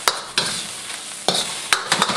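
An egg fries in a scorching hot, generously oiled wok, with a steady sizzle broken by sharp scraping stirs of the spatula, several quick close strokes in irregular rhythm.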